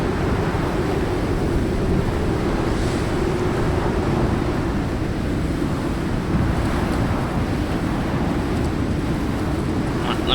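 Character wading and splashing in water with rolling waves in Icarus, a constant loud wash of surf and churning water with wind-like roar, steady for the whole stretch without talk.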